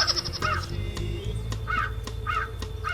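A crow caws repeatedly in a film scene, loud harsh calls coming in a quick series of about four, over a low background hum.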